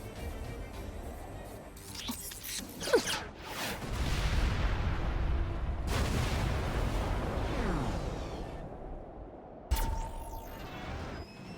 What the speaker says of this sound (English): Enemy missiles intercepted